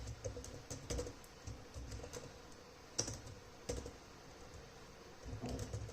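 Rapid clicking of a computer keyboard as a function name is typed, uneven bursts of keystrokes close up with brief pauses between them, with no talking over it.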